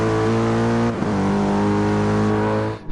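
A race car in a sim racing game at Spa in wet conditions revs hard, its engine note climbing, then dropping with a gear shift near one second before rising again, loud and close.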